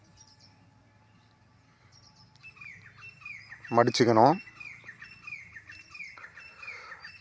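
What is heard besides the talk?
birds chirping outside the recording room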